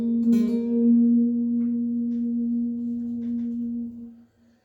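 An electric guitar on the G string is picked, then hammered on from the 1st fret, and the note is held with gentle vibrato for about four seconds before being cut off. It is clear, close and played alone.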